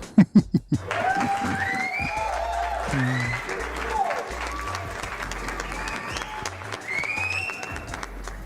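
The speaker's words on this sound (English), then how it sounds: "I think you should give yourself a round of applause for that" A crowd applauds and cheers steadily after a few sharp opening claps, with voices and whoops mixed into the clapping throughout.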